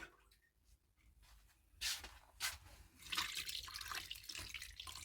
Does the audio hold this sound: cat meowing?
no